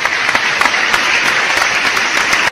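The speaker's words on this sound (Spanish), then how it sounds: "Aplausos, por favor." A crowd applauds steadily, a dense and loud wash of clapping that holds evenly throughout.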